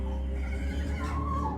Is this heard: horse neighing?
yes